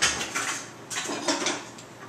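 Metal forks scrape and clatter against a pot while shredding cooked pork, a few close, uneven bursts of scraping and clinking with no talk.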